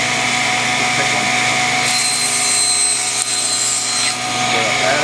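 A table saw running steadily, then biting into the end of a wooden board to square it up. A harsher, brighter cutting sound lasts about two seconds over the loud motor hum.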